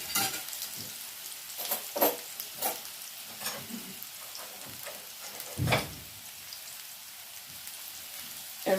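Potatoes for home fries crackle and sizzle in a pan, a soft steady frying hiss broken by sharper spatters and stirring clatters now and then.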